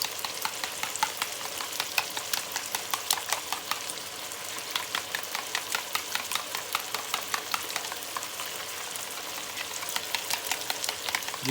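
Yogurt being whisked into chicken karahi in a pot, a quick, regular clicking and scraping rhythm repeating steadily throughout over a faint background sizzle, with no talk.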